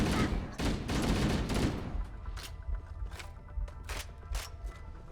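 Rapid bursts of gunfire in a Halo: Combat Evolved firefight, loud dense volleys at first, then scattered single shots and thuds further back.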